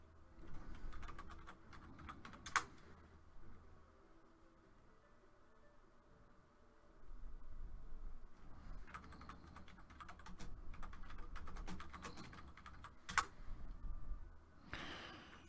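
Bursts of computer keyboard typing during a Shroud of the Avatar game session, clattering keys in several runs with quieter gaps and a low ambient game hum underneath.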